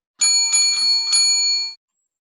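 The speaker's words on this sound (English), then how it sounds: "what I just uploaded was the service bell sound right here" A service bell rings about four times in quick succession, bright metallic dings that overlap and then cut off cleanly, played as a sound effect with nothing else around it.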